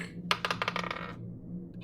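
Dice rattle in a quick clattering burst at a tabletop role-playing game, tumbling to rest within about a second, close by and with no one talking.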